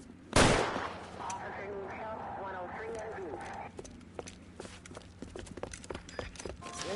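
A sharp, loud gunshot opens the scene in the crime game L.A. Noire, followed by someone talking and a run of fainter, scattered shots and clicks under ongoing background noise.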